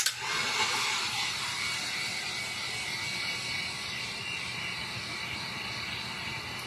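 A blow dryer runs steadily to dry a resin painting decorated with beads and glass, its broad hissing rush constant and close throughout with no talking.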